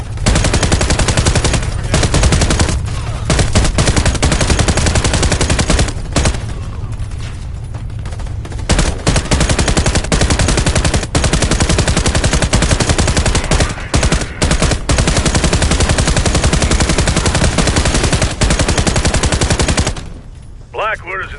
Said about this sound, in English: Blackwood has installed automated turrets in their base here.